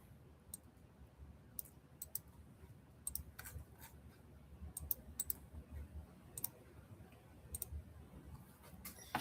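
Quiet, scattered keyboard clicks, short sharp taps in loose bursts, as someone types an entry during a live NFL helmet break, with a faint low background hum and no talking.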